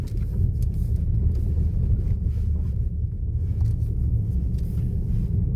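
A Kia Sportage climbs a dry rural road near Udbina, a steady low engine and tyre rumble from inside the cabin with some wind buffeting, continuous and fairly loud.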